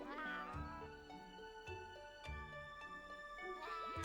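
Black Merchant Cat in the video game The Loot Forest meows several times in drawn-out, wavering cries with a few sharp onsets, clear and close, no talking.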